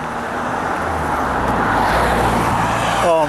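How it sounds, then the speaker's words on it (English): Steady road traffic rolls past on a Sunday morning near Maldon on the Essex coast, a continuous broad rumble of cars with one vehicle swelling closer near the end. "would you believe it, there's still quite a lot of traffic"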